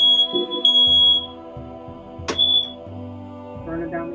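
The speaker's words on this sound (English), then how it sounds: "My fire alarm was going off for a second." A smoke or fire alarm in an apartment beeps in short high-pitched chirps, sounding intermittently beneath a person talking and other tonal game sounds.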